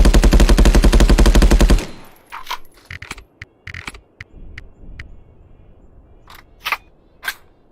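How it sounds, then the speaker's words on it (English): An MK18 rifle in the VR shooter Contractors VR is emptied in one long, loud, rapid burst lasting under two seconds, followed by scattered mechanical clicks and clacks of weapon handling. "So I do need to empty the weapon for this."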